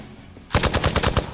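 Rapid burst of gunfire from the video game Marvel's Midnight Suns, erupting suddenly after near silence into a loud string of about eight sharp, evenly spaced shots.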